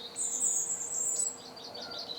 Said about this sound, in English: My robin having a sing.